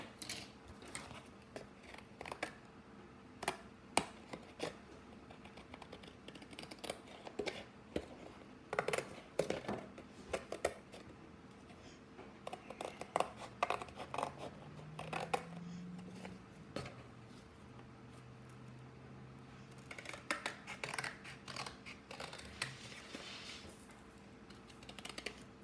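Scissors cutting material for a homemade pop it fidget toy, a long run of irregular sharp snips and clicks, close and fairly quiet, with scattered handling noises between cuts.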